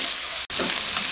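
Capsicum cooks on a high flame for a Chicken Manchurian stir-fry, giving a steady, close hiss of frying broken by one brief dropout midway.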